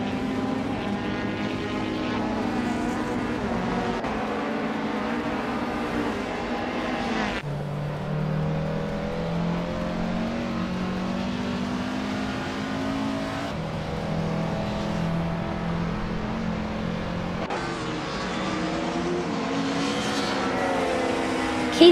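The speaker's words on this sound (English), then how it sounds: "is driving a 1996 Opel Calibra DTM" A 1996 Opel Calibra DTM touring car in a racing video game, engine droning loud and steady up close, pitch climbing then dropping abruptly at each of several upshifts.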